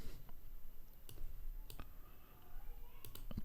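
Sharp mouse clicks on a computer while working in Aspire design software, a handful of separate crisp taps scattered over a few seconds against a quiet room background.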